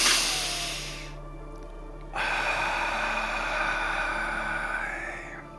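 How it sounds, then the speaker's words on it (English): A deep breath drawn in through the nose during a guided energy session, a close, airy inhale opening the clip, then a brief lull before a longer soft breathy wash. "Nice deep breath in through the nose"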